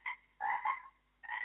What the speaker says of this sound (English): I've told you I don't want the frog in the kitchen.